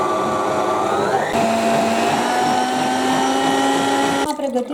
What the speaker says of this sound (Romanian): adăugăm fructele și mixăm, omogenizăm compoziția cu fructe